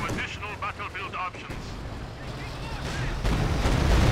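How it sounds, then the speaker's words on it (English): Walking Stuka artillery barrage in Company of Heroes 2, a rapid series of booming blasts rolling into a sustained rumbling roar that builds louder toward the end. "huge walking Stuka barrage there"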